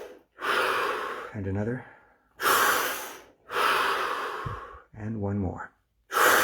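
Slow, deep breaths drawn in and let out during a guided relaxation session, each long airy inhale and exhale close to the microphone, with a calm voice speaking brief prompts between them.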